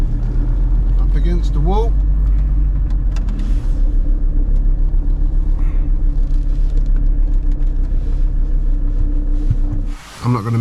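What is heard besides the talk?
VW T4 campervan engine while parking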